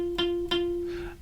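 A guitar note fretted with the finger pressed over the top of the fret, plucked then re-struck, sounding thin and slightly muted with a scratchy noisy edge as it fades, no voices present.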